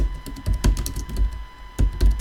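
Quick bursts of computer keyboard typing while renaming a field in Tableau Desktop, clustered keystrokes with short pauses between, close and fairly loud, with no talking.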